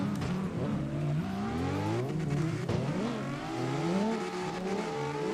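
A Lexus drifting in the CarX Drift Racing video game, its engine revving and wavering up and down in pitch with tire scrub, loud and close throughout with no voices.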